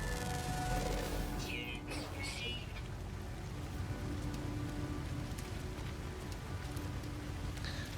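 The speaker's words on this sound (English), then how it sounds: "Magenta sky. Corrosive sleet storms." A corrosive sleet storm rages on an alien planet in No Man's Sky, a dense continuous wash of pelting precipitation and wind noise with a few brief hissing bursts, steady and loud throughout.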